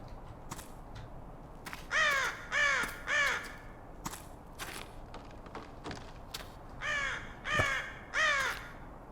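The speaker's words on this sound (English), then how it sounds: "Is there a crow warning me about the dangers?" Crows caw in a game forest along an overgrown path, three harsh calls in a row, a pause with soft thuds, then another run of three caws, fairly close over quiet ambience.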